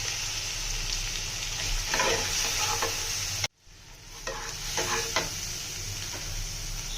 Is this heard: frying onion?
yes